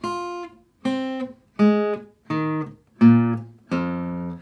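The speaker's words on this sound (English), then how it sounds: "I want to try and play every single string pressing down on the first fret only of the guitar." Six plucked guitar notes, one on each string pressed at the first fret, played one after another, each ringing briefly then stopped, moving through the strings at an even pace.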